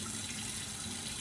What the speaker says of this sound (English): we're just going to run cold water over it until the water is less cloudy